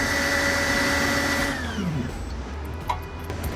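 A rotary friction welding machine spinning and pressing metal parts together, giving a loud, steady whine with a tonal hum that drops and winds down as the spindle slows, followed by quieter mechanical clicks.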